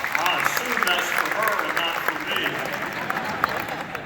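Audience applause fills a large event hall in Houston, a dense, steady wash of clapping from a big crowd that holds for about four seconds with no voices on top.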